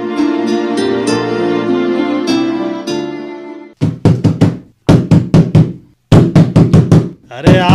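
Repeated loud knocking on a door at night, struck in several close bursts of rapid blows separated by short pauses, following a stretch of background music.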